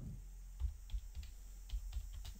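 Typing on a computer keyboard for a Flash CS4 text box, a quick run of soft, close keystroke clicks with a few louder taps in an uneven rhythm, no voices.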